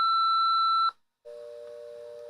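An answering machine gives an electronic beep: one steady pure tone for about a second, a brief silence, then a lower, louder steady tone that holds on, clean and close, with no voices.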